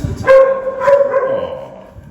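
A dog at the Anderson Humane animal shelter gives a couple of close, tonal barks or yips, each followed by a trailing whine, heard alone without talk.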